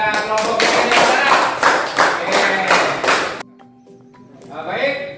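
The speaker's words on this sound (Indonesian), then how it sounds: "Mari kita beri aplaus yang meriah kepada kelompok Ki Hajar Dewantara" Students in a junior high school classroom clap for a group presentation: dense, continuous applause for about three seconds that cuts off abruptly, followed by quieter room noise and a few faint taps.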